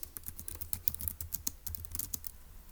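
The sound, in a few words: typing notes on a computer keyboard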